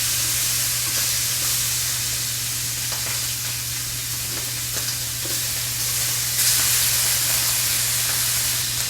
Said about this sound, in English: We're going to drop our shrimps in.